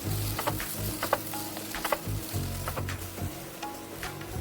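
Spoon stirring and scraping through eggplant pickle in a clay pot with the heat switched off, giving scattered soft clicks and scrapes over a faint, fizzing background.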